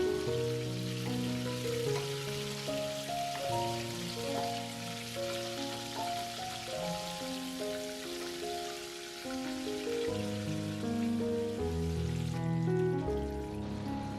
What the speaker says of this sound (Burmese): စီပူလာရင်ပစုံကိုထည့်ကြော်ပါမယ်